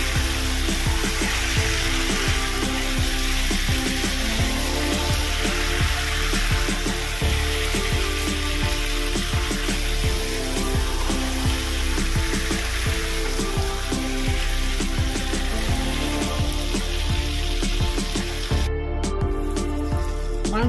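Chicken pieces browning in hot oil with slit green chillies for korma, a steady dense sizzle and frequent stir clatter filling the whole stretch, with no talking.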